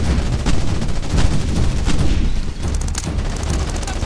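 Sustained gunfire in Ghost Recon Advanced Warfighter 2, loud rapid bursts and booming shots overlapping in a dense barrage, with a brief dip midway before crisp rapid shots resume.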